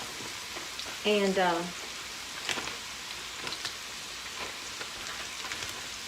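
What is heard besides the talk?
okra frying in an iron skillet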